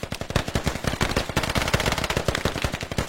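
Rapid automatic gunfire in the military shooter game Squad, dense bursts of close, sharp shots firing continuously with no talking.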